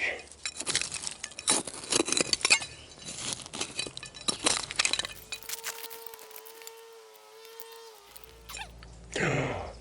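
A glass bottle stopper, dug from an old bottle dump, clinks and rattles in a burst of bright, close taps, followed by a brief sustained tone and a last scrape.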